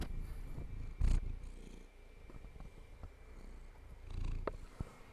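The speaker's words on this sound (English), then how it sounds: "My cat is really just going insane right now" A pet cat purring close by in a low, steady rumble, interrupted by a couple of louder bumps and rustles as she shifts about.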